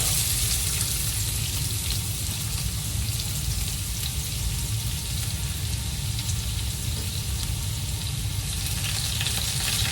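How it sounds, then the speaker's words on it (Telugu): Onions frying in hot oil for pepper chicken, a dense, continuous crackling sizzle that holds steady and loud for the whole stretch, with no voices. "నూనె కాగింది, దాంట్లో ఎర్రగడ్డలు వేగించుకుందాం."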